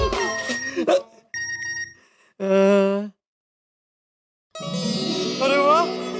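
Phone message notification on a mobile in a Hindi sitcom household: a brief clear tonal chime sounds between bursts of voices and a sharp exclamation, followed by a short silence and more talk.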